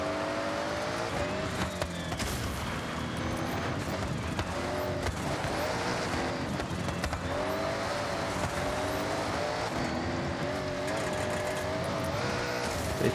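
Engines wail continuously through a Forza Horizon 6 race, with a close, loud whine that climbs and falls through gear changes and occasional tire squeal, never letting up.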